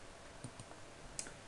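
Mouse clicks while navigating Firefox proxy settings on a computer: a few sharp, isolated clicks spaced apart, faint and close, over a low steady background hiss.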